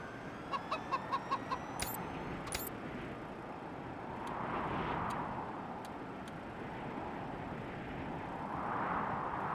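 A chicken clucks in the video game Wasteland 3, a quick run of short clucks early on over a low game ambience, then a steady background hum with soft ticks.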